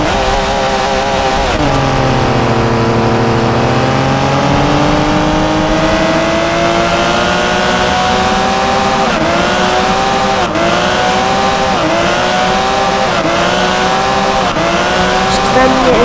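A simulated Porsche 911 GT3 RS in Driving School Simulator 2022 drifts in reverse, its engine droning loudly and steadily with rising and falling pitch as it shifts gears, and someone talks over it.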